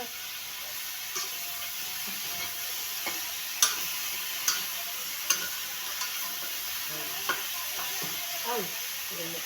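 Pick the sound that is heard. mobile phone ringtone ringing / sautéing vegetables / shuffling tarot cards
sautéing vegetables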